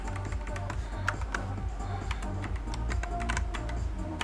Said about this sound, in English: I'm still learning my Kinesis keyboard